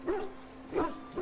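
Hounds in the Dragon Age: Origins game give a few short barks and yips, spaced out and fairly close.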